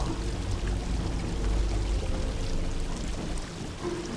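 Water rushes steadily through pipes in the video game Obduction, a continuous broadband flow with a low churning rumble and no voices.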